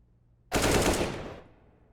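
A short, loud burst of automatic gunfire in a Counter-Strike match on the Mirage map lasts about a second, then fades quickly.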